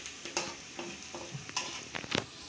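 Fried rice without egg is stir-fried in a pan, with scraping and tossing strokes scattered irregularly over a continuous sizzling hiss, close and fairly quiet.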